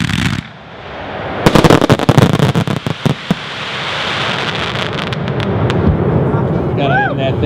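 A Skies Over Baghdad 1.3 consumer fireworks cake fires a rapid volley of loud cracking shots, followed by sustained crackling and whistling, outdoors at close range.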